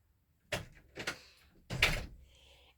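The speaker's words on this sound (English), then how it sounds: "Shut the door." A door is pushed shut indoors: a few close knocks and bumps of the door moving, then a firmer closing thud with a brief rattle, no talking.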